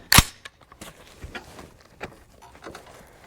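A single sharp report from a 350 Legend rifle at the start, loud and close, followed by fainter scattered clicks and knocks at an outdoor range.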